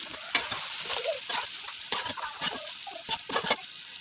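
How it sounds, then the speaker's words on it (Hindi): Okra and capsicum fry in a pan with a steady, close sizzle, broken by repeated sharp clinks and scrapes as they are stirred. "बस ये हमारी भिंडियाँ फ्राई हो चुकी हैं"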